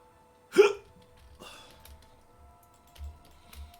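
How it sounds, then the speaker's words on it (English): One sharp, abrupt hiccup bursts out close up during a quiet livestream, followed by faint keyboard clicks and small low thumps in the background. "Having a case of the hiccups."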